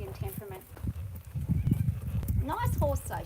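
An Arabian-type mare moves with soft hoof clops and shuffling nearby while people talk over the sounds throughout.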